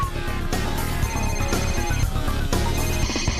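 A phone rings loudly with an incoming call, its electronic ringtone pulsing in regular bursts about every half second, close and steady with no voices.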